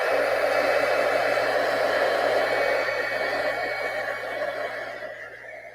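A hair dryer runs steadily on a DIY fall craft project, a continuous close whooshing blow that holds through and eases slightly toward the end.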